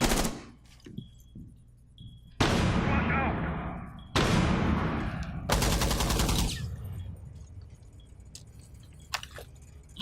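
Gunfire is traded in a Rainbow Six Siege match in a weight room. Several loud, sharp bursts of automatic fire come at intervals with quieter pauses and faint clatter between them.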